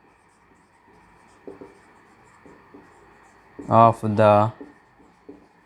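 Marker or chalk strokes on a board during a classroom lesson, soft, scattered scrapes with pauses, interrupted by a brief spoken phrase.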